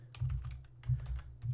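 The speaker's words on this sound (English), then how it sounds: "we're going to start typing" Keys clack on a computer keyboard in a short, uneven burst of quiet taps, close but faint, with no one talking.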